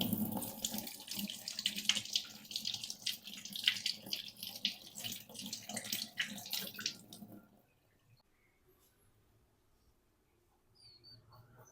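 Fruit is rinsed under a running kitchen tap, the water splashing and gurgling fairly close for about seven seconds before it cuts off, leaving near silence with a few faint clicks.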